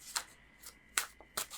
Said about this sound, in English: I'm just shuffling first the Sims tarot cards